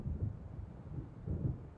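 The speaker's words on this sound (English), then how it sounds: "It seems there's a storm coming." Thunder from an approaching storm on a dark lakeside in the Alan Wake video game, a faint low rumble rolling continuously with slight swells and no voices.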